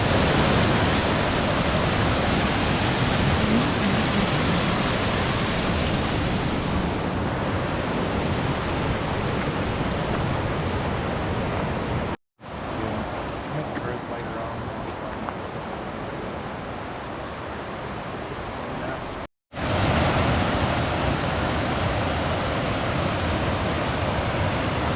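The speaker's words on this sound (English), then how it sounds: "This river is pushing" A fast-flowing river rushes on the trail to Rough Creek campsite in the Great Smoky Mountains, a loud, constant broadband roar of whitewater that cuts out briefly twice before resuming at full strength.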